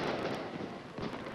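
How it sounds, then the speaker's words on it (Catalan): Gunpowder fireworks crackling and booming as a Valencia falla burns during the Cremà, a loud dense roar with scattered pops and no voice. "Amb el so de la pólvora"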